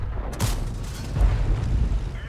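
A single heavy tank cannon shot fires in a World of Tanks-style battle involving a Jagdpanzer 38t Hetzer, a close booming blast with a rumbling low tail that lingers beneath steady engine noise.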